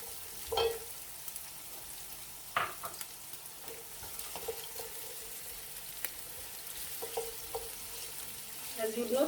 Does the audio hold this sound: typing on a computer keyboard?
no